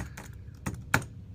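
Keys clack on a computer keyboard as a search query is entered, a few sparse, crisp taps with uneven spacing and no talking.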